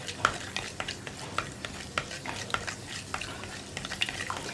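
Fenugreek seeds fry in coconut oil for a Kerala fish curry, a soft steady sizzle broken by frequent scraping taps of a spoon stirring around the pan, close and with no talk.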